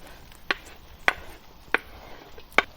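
Onions being chopped on a board in a kitchen: four crisp, evenly spaced knife strikes, close and clear, with no talk over them.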